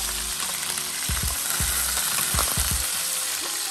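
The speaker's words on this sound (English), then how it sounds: "I'm gonna let this simmer a little bit" Turkey wings sizzling in oil in a pan, a loud, constant frying hiss up close with occasional soft knocks of the pan or utensil and no talking.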